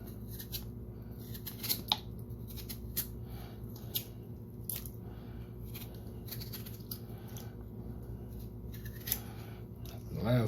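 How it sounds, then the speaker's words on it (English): Chicken pieces being cut up in a home kitchen for Jamaican-style curry chicken, with repeated short crisp snips and chops in an irregular rhythm over a low background hum and occasional quiet talk. "Just going to cut them up so you get the idea."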